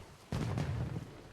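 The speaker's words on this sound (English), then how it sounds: "Makes for wonderful fireworks. Sure looks nice exploding against the night sky." A firework bursts in the Secret of Monkey Island video game: one sudden booming blast followed by a crackling, fading rumble.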